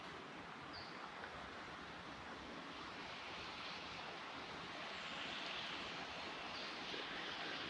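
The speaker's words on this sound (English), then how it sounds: "currently the feeders are in operation, which is perhaps one of the noisiest things that happens on a fish farm" Fish farm feeders running on the Huon River, a steady broad rushing and whooshing noise that holds fairly constant and swells slightly toward the end, with wind and water texture mixed in.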